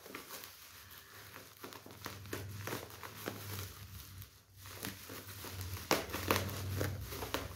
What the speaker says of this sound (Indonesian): Ini kita unboxing dulu teman-teman.